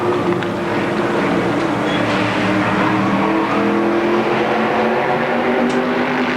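Stock cars race at Motordrome Speedway, their engines holding a loud, steady roar close by with layered motor drone and no breaks, while an announcer calls the race over the noise.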